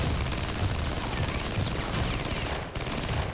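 A machine gun fires at its full cyclic rate of about 850 rounds a minute, making a dense and steady stream of rapid shots that carries on for several seconds before a brief break, with no voices.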